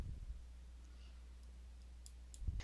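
Single soft computer mouse click, faint and close, over a low steady hum from a computer in a quiet room during a software tutorial.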